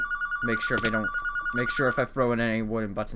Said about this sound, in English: And that's a phone.